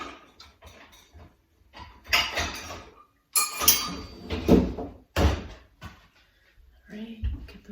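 A ramekin is pulled from among kitchen dishes with clinking ceramic knocks and a cupboard sliding, several sharp clatters in short bursts, while someone talks nearby.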